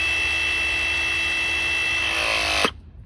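A RIDGID RP 351 ProPress tool pressing a pipe fitting gives a steady, loud motorized whir for about two and a half seconds, then cuts off abruptly into quiet.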